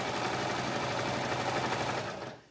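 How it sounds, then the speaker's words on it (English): A sewing machine runs steadily as it stitches clear elastic into a dress waistband, a close, continuous whir that slows and stops at the end. "So I'm going to stretch the clear elastic a little bit as I'm sewing so that it does"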